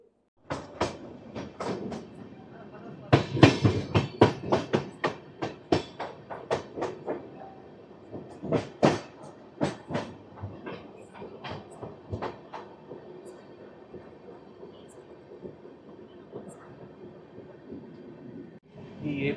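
Onboard the AP Express train, rhythmic clickety-clack of wheels over rail joints comes in loud sharp bursts over a quieter rumble, with faint interior noises in between.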